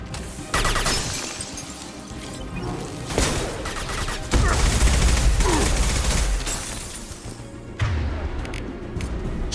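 Heavy gunfire and explosive impacts from a squad battle in the Mass Effect 2 video game, with repeated bursts, crashes and booms overlapping for several seconds in a dense, chaotic barrage.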